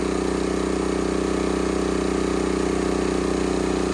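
A Honda EX1000 generator engine runs steadily, a loud, even mechanical drone with a fast regular pulse, close and alone.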